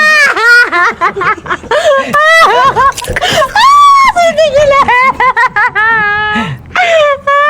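A girl wails, sobs and screams in long, loud, strained cries that rise and fall almost without pause, with short gasping breaks between outbursts.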